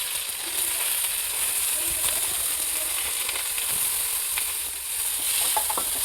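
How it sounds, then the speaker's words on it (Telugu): Thinly sliced onions frying in hot oil for chicken curry, a continuous bright sizzle with occasional crackles and stirring scrapes, close and steady throughout. "కొంచెం బ్రౌన్ కలర్ వచ్చే వరకు ఆనియన్స్ని ఫ్రై చేయండి."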